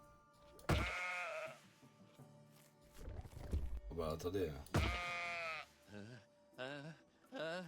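Sheep bleating in the puzzle video game Crushed in Time, several wavering bleats in separate bursts, with someone speaking French between and over them.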